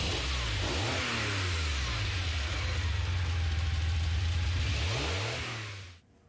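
A mid-engine Ferrari 512BB in Gran Turismo Sport revs hard and close, its engine note climbing and shifting through gears in a loud continuous roar before cutting off abruptly at the end.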